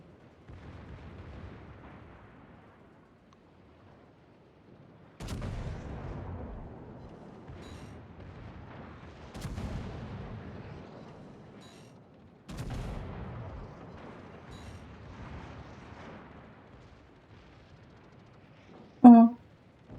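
Destroyer guns firing in a naval combat video game, heavy booming shots every few seconds with long rumbling decays, a sharper blast near the end, set against quiet background.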